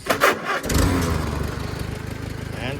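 A 1959 Farmall 140 tractor engine cranking and catching, then settling into a steady, throbbing idle with a regular low chug, close and moderately loud, with some faint background noise.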